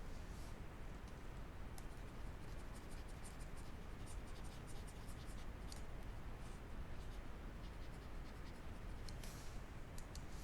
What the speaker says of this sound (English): Let's just write this down at the bottom.